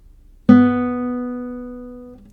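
A single open B note rings on the second string of a guitar, one clean pluck that sustains and slowly fades for about two seconds, heard alone.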